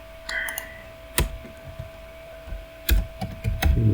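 A computer keyboard clicks in sparse, uneven keystrokes, a few sharp taps and short clusters close to the microphone over a quiet hum, with no talk.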